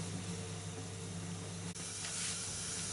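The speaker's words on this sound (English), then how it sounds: "The mushrooms are starting to brown nicely, and you'll see they're issuing steam" Mushrooms browning in a pan give off a constant, even sizzling hiss with steam, continuous and moderately loud throughout with no talking.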